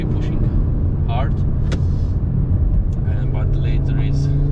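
A 2022 Audi RS3 cruises along a winding road in moderate traffic, its engine a steady close-up rumble from inside the cabin, with brief voices over the drone.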